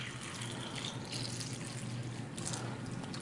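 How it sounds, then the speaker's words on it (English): Tap water pours steadily into a container during a kitchen demonstration, a continuous close splashing rush with no break and no voices. "we're just going to simulate that by pouring some tap water in here."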